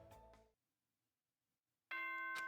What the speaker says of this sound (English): Ding dong, bing bong.